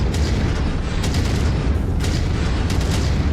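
Heavy weapon fire from mechs in MechWarrior 5 booms in dense, rumbling bursts, with sharp impacts every second or so over a constant loud roar.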